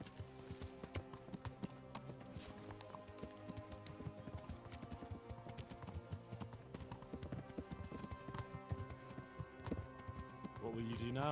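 Horse hoofbeats while riding in Kingdom Come: Deliverance, a steady clip-clop rhythm of galloping hooves under a music score and game voices.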